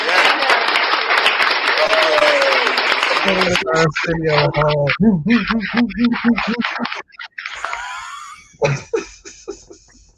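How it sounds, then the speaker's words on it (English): Applause from a wrestling podcast audience fills the first few seconds, then gives way to talking and scattered laughter. "Clap it up for Tony."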